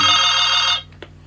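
An electronic telephone ring sounds loud and steady with a bright warbling pulse, then cuts off abruptly, leaving a faint click and quiet room hum.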